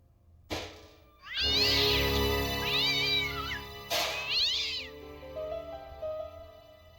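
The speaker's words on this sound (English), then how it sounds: "Why would a cat be in a bin?" Two drawn-out cat meows, one after the other, from a cat shut inside a bin in the point-and-click game Broken Sword: Shadow of the Templars, loud and close with a low background hum and no talk.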